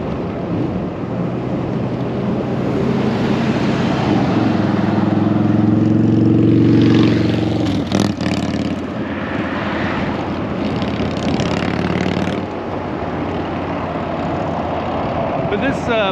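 A motorcycle riding at speed on a ride home, its steady engine drone and rushing wind noise constant and loud, with someone talking over it.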